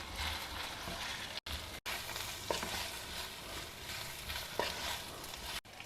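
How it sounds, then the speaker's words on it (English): Boiled arbi tossed with masala in a cast iron kadai, a continuous sizzling fry with stirring scrapes and a few brief clinks, close and steady without talk. "now add in this boiled Arabi along with this masala and toss everything very well."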